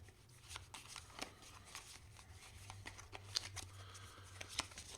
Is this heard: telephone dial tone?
no